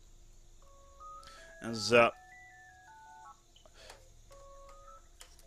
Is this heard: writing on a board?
no